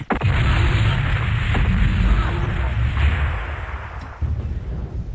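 A loud, close explosion as an enemy mech is destroyed in the MechWarrior 2 game: a sharp burst that swells into a sustained, heavy rumble with crackling debris, trailing off slightly before steadying.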